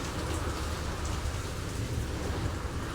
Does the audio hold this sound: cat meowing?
no